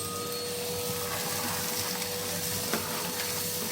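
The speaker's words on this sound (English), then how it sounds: "just have a quick hoover up around here" A vacuum cleaner hoovers up soot and debris around a wood burner during chimney sweeping, giving a loud, steady whooshing drone that stays constant, with a brief knock partway through.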